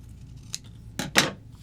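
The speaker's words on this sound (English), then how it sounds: "I'm just going to go ahead and trim this guy pretty close to the stamped lines" Scissors trimming stamped paper close to the printed lines at a craft table, a faint snip followed by two louder, crisp cuts close by, with no talking.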